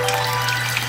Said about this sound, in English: I bought this special machine off Amazon, which apparently is supposed to simulate a realistic waterfall